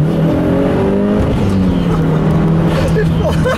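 A Mitsubishi Evolution 9 MR accelerates hard through first and second gear on a back road, its loud engine note climbing steadily in pitch, dropping briefly at the shift near the middle, then rising again, heard close from inside the car.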